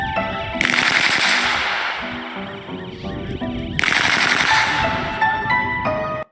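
A gun mounted on a robot dog fires on full auto in two long, loud, close bursts of rapid shots, separated by a brief lull.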